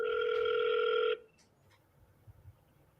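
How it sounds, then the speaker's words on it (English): A steady electronic telephone tone rings clearly for about a second, then cuts off, leaving faint quiet room noise with small soft clicks afterward. "We're just dialing over here, trying to get someone on the phone"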